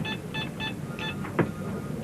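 Telephone keypad beeps as a call is transferred: four short, evenly spaced tones, then a brief click, heard close and alone at moderate level.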